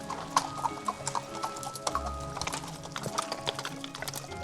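Horse hooves clip-clop steadily in a regular walking rhythm during a long-distance horseback ride through Ariège, close and clear, with occasional brief snorts or whinny-like sounds and no talking.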